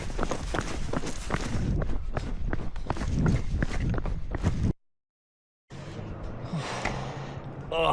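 A person runs on a camping trail, with rapid footsteps and heavy panting close by, then a brief silent cut before quieter continued movement and breathing.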